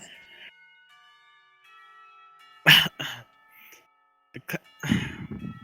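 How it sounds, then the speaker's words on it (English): A school clock tower bell rings in the video game Katawa Shoujo, a sustained tonal chime marking the end of a class period, followed by coughing and throat-clearing close by. "The clock bell tower rings. Bells ring, signaling the end of the period."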